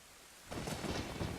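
Thunder from a lightning strike in the Zelda: Ocarina of Time video game, a sudden rumbling crash that swells out of a quiet rain-like hiss and rolls on, fairly faint and distant.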